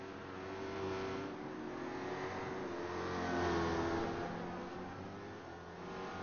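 Race cars in the Targa Series 300 km at Zolder driving through a turn, a steady engine roar swelling to a peak and easing off at a moderate distance, with no talk.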